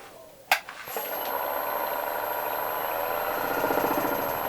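A wood lathe turning a bowl runs at a restrained speed, giving a steady mechanical hum and whir with a thin high whine, after a sharp knock near the start.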